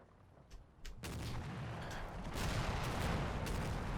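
Churchill tanks and artillery firing on German infantry in Combat Mission: Battle for Normandy, a few distant thumps giving way to a sustained, loud roar of overlapping blasts and rumbling barrage, without talk.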